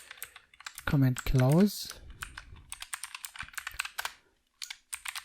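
Rapid keyboard typing while code is written for an image slider in HTML, CSS and JavaScript, with close, crisp clicking in uneven bursts and a short spoken phrase near the start.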